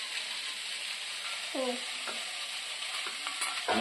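Broccoli, potato and onion frying in a pan as they are stirred, a steady sizzle with scraping stirs and a brief voice-like tone partway through.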